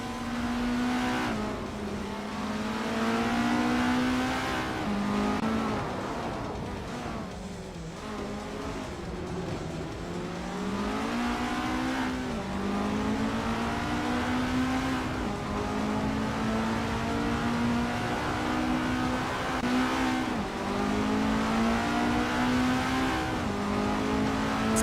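A 1987 Avia F87 race car in a racing video game holds a loud, steady engine drone, its pitch rising and falling through gear changes and revs without a break for the whole stretch.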